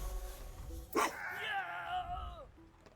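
A video-game dog in Menace From the Deep attacks with a sharp yelp-like impact, followed by a drawn-out whining bark that slowly falls away, heard over quiet background game music.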